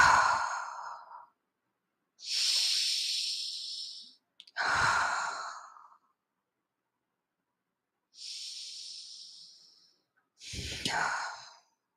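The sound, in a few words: deep forceful breaths in through nose, out through mouth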